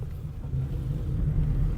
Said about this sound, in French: C'est un vieux bruit de vieux moteur, c'est normal.